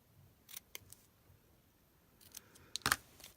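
Scissors snip paper banners for a handmade card in a few quiet, scattered cuts, ending with a sharper, louder close snip, with no voices.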